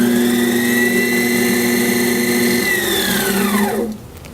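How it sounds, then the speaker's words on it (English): A bench lathe spinning a flute head joint cork plate for polishing with micro mesh hums steadily with a whining tone, close and loud, then winds down as the motor slows near the end. "I do that with a little micro mesh and spinning it on the bench lathe"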